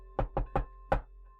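Four hollow knocks on wood, three in a quick even run and then a brief pause before a final louder rap, sharp and close against a faint steady hum.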